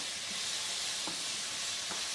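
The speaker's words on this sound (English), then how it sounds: "The right thing is to stew the onions on the fire." Onions stew over a very strong fire with a constant bright sizzle and hiss, broken by two faint clinks of stirring, close and alone without talk.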